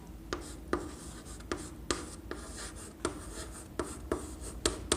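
A pen scratches out an answer by hand on paper, steady rubbing strokes broken by regular small taps, close and fairly quiet.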